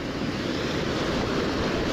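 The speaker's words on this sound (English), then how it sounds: "The water is flowing really nice, really clear." A clear river flows past slippery fishing rocks with an even, dense rushing wash, loud and near, unbroken from start to finish, with no one speaking.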